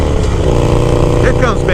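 Harley-Davidson Sportster Iron 883 with a stage 1 upgrade, its exhaust giving a loud, steady low rumble throughout, with a brief rising whine near the end.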